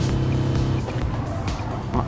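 Modified Volkswagen van engine with manual gearbox at Le Mans in Gran Turismo Sport, a loud rumbling engine note under a voice, with brief tire noises.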